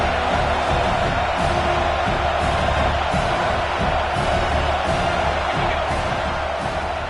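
A home crowd roars steadily through an American football game between Notre Dame and Army, a loud continuous wash of stadium noise with scattered whoops and no break.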